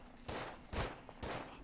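Three heavy rifle shots boom out at even intervals, close and loud, each with a short ringing tail, during World War I combat in the video game Verdun.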